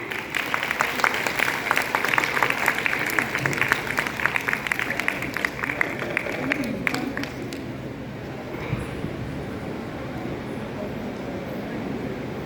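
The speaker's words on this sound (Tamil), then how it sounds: "Let's give her a big hand." An audience claps for a three-year-old girl, a dense patter of applause for several seconds that fades into murmuring room noise with voices.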